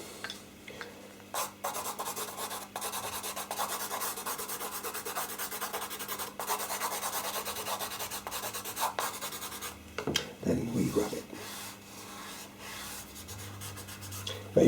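A pastel pencil's colour is rubbed in with a finger or colour shaper, producing a dry, scratchy rubbing and rasping that runs steadily and closely, with a few louder strokes and short pauses.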